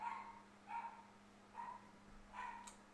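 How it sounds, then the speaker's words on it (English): A dog barking downstairs in a house, four muffled, distant barks spaced evenly apart, faint against a low steady hum. "My dog's downstairs just barking"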